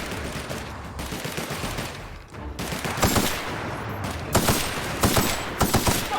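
Plasma weapon firing in the video game The Outer Worlds, rapid bursts of sharp crackling shots over a rumbling background, loud and close, with a short lull before heavier volleys.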